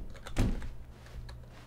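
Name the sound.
door opening in The Stanley Parable video game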